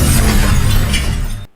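Glass shattering after a gunshot in the horror film Don't Breathe makes one loud, dense crash of breaking glass that fills the whole clip before cutting off abruptly.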